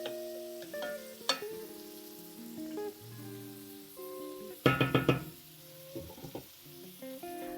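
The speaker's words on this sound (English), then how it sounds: "They smell delicious and they are simmering gently. So I just like to toss them around a little bit." Lentils simmer gently in a pan and get tossed, giving soft bubbling and sizzling with a burst of shaking and clatter midway, quiet and close with no talking.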